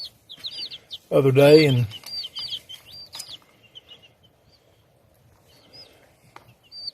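Tiny high chirps from a group of about a dozen baby chicks, repeated peeps scattered through the clip, with a brief burst of nearby speech early on and quieter talk afterward.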